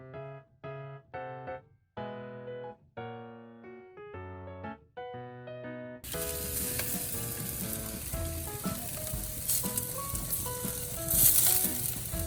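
Food sizzles steadily on a charcoal barbecue grill outdoors at a countryside pension in Yangpyeong. A loud, continuous hiss comes in after a stretch of melodic music, and the music carries on faintly beneath it.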